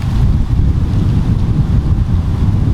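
Strong wind buffets the microphone outdoors in a steady, loud low roar with gusty swells throughout and no voices.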